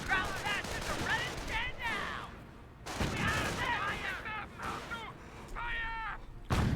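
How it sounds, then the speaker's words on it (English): Close bursts of gunfire and battle noise from a Company of Heroes match, with sharp shots and crackling volleys scattered between stretches of game voices calling out over the fighting. "They're firing on us!"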